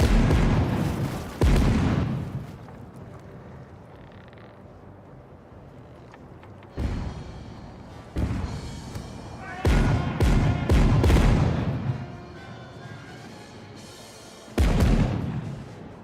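Broadside of ship cannons firing in Caribbean Legend, a naval sea battle game: several heavy booming blasts in separate clusters, loud and close, with rumbling decay between volleys.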